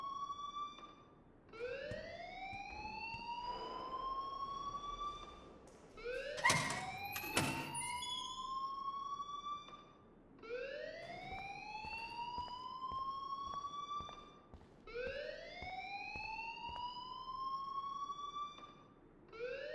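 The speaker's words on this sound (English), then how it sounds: "please turn off that alarm since that's your job" School alarm in the video game Life Is Strange, a rising, wailing electronic siren that repeats in long sweeps about every four seconds, fairly faint, with a brief knock partway through and no talking.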